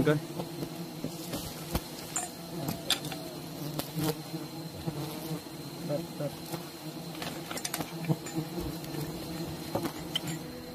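Bees buzz around a beehive near a rock face during a climb, a steady insect hum with clicks and knocks over it and faint talk at times.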